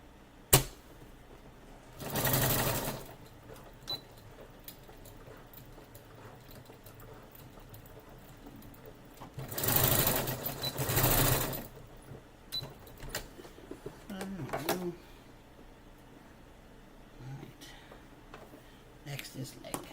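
A sewing machine tacks and stitches a seam in two short bursts of rapid whirring, separated by quiet stretches with light handling clicks.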